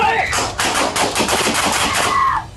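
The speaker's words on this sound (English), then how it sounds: "Melendez pointed a handgun at officers and was fatally shot" Rapid burst of police gunfire at an armed suspect inside a bedroom, a dense string of loud close shots over roughly two seconds, with shouting voices at the start and end.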